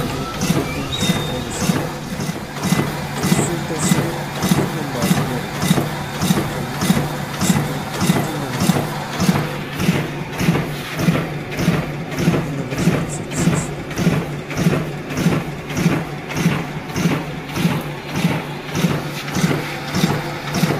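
A Riso CV 3230 digital duplicator printing envelopes runs steadily, with a loud, even mechanical drone and a regular pulse of roughly one feed cycle per second that keeps going throughout, with no voices.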